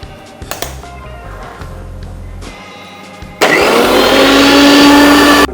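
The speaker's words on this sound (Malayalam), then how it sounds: "ഇതിനെ നമുക്ക് നന്നായിട്ട് അരച്ചെടുക്കാം" A kitchen mixer grinder blending rambutan, milk, sugar, almonds and cashews kicks on abruptly partway through and roars loud and steady with a high whine, following a few quieter clatters and a low hum.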